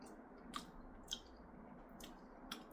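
Someone chewing a mouthful of homemade Madras curry: soft, wet squishy bites at a slow, uneven pace, quiet and close, with no talking.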